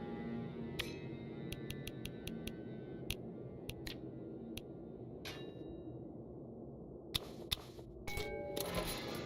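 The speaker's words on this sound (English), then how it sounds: "We had that one bell that we had in our inventory this whole time. We needed to actually ring that in order to open the door." In the video game Tombwater, a bell chimes in short, clear, bright strikes, scattered singly and in quick runs over a dark low ambient drone, with a denser cluster of rings near the end.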